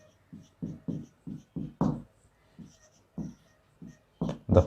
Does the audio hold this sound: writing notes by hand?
yes